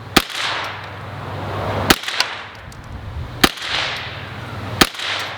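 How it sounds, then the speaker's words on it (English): A Ruger 10/22 rifle fires four sharp cracks at roughly even intervals. Each shot is followed by a hissing, whining bullet ricochet that trails off outdoors. "Hear that ricochet?"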